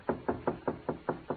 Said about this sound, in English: I was in my room when there was a knock on the door